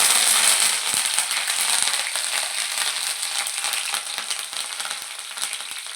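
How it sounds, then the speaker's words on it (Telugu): Curry leaves splutter and crackle in hot cold-pressed oil with browned garlic, a dense, steady sizzle peppered with sharp pops, close and loud, no voices. "ఇప్పుడు కరివేపాకు వేసుకుందాము."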